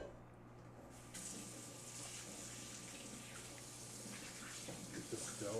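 Tap water runs steadily into a full-size pasta pot, a continuous close gush of splashing that starts with a jump in level about a second in and keeps flowing over a low kitchen hum, with no talk.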